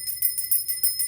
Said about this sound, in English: Let me ring the bell on that.